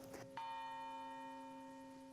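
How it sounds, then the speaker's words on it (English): A campus bell tolls a single clear strike, its bright ringing tone sustaining and slowly decaying over about two seconds, heard alone at a moderate distance. "At the other end of campus from here, that bell still rings each day"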